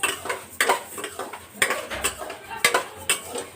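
A spoon scrapes and clinks against a pan as rice dry-roasts for a dry fruit baby food mix, the strokes coming in an irregular rhythm with a faint sizzle underneath.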